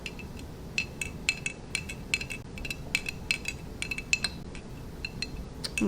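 A spoon clinks against a glass while stirring tea to dissolve it, giving a run of light, irregular taps at close range over a steady low background hum.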